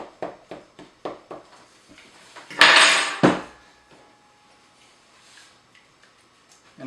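A fork pricks par-baked pizza dough in a quick, evenly spaced series of soft taps, followed by two louder, longer scraping bursts close by, then quiet.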